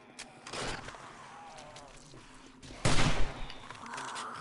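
Firearm shots in the survival video game 7 Days to Die, several bursts including a loud cluster of rapid shots in the middle, with quieter game noise around them.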